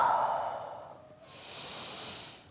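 A slow, controlled yoga breath: a long, soft exhale through the nose, then a brighter, airy inhale, heard close up and on its own during a flexibility session.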